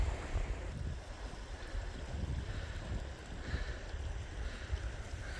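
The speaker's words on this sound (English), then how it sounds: "Streams coming out here into Upper Mills Lake, which is really pretty" A mountain stream flows into Upper Mills Lake in the high Sierra, a steady broadband rush of water mixed with gusty wind buffeting close by, continuous with no voices.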